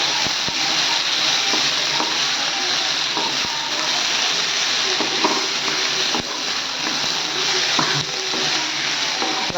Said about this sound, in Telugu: తొక్క తీసుకున్న వెల్లిపాయలు 3 వేసిన తర్వాత కొంచెం ఫ్రై చేసుకోవాలి.